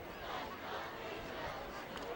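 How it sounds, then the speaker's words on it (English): Lively crowd noise from the Haslett student section at a cold night high school varsity football game against Belding, a steady broad roar of many voices throughout with a commentator talking over it. "The Haslett student section's getting out cheered right now by Belding."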